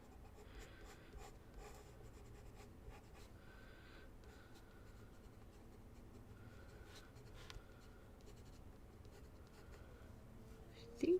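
Pencil scratching steadily across mixed media paper while adding fine details during a coloring session, a soft continuous scraping with small strokes and a brief louder bump at the very end.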